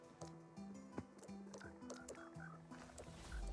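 Minecraft frogs croak in a blocky game world, several short low croaks scattered irregularly over the scene, fairly faint, with light footsteps and other game noises mixed in.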